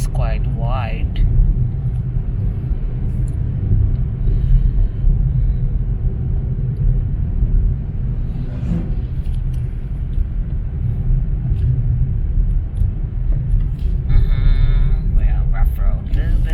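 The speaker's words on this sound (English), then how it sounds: "Well, rough road a little bit." A car rolls along a rough city street in Cebu, with a steady low engine and road rumble running throughout and a few brief rattles and bumps, while someone talks over it.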